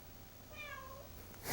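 A cat lets out a single drawn-out meow while being wrapped in a towel, a faint, close cry of about half a second over a quiet background, followed by a brief rustle.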